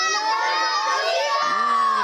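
A group of children shout together loudly and continuously in unison on a kids' show, their high voices sustained and close with no pauses, rising slightly in pitch toward the end.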